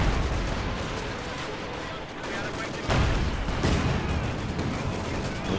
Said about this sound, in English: Werfer is firing at the middle, but there just aren't a lot of targets there